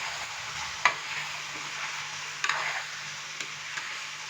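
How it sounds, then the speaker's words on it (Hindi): Chicken stirred in a cooking pot for biryani, with a constant sizzling hiss and occasional sharp scraping clicks of the utensil against the pot, close and moderately quiet with no voices. "चिकन डालने के बाद अच्छे से मैंने इसको मिक्स कर दिया है।"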